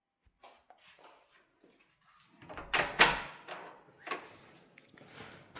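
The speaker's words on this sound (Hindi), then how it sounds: "मैं आपके सामने दरवाज़ा खोल रही हूँ, पार्सल ले।" A front door at home swung open to take in a parcel delivery, with a few soft handling clunks, then a louder burst of rattling and knocking as the door opens, followed by quieter scattered bumps.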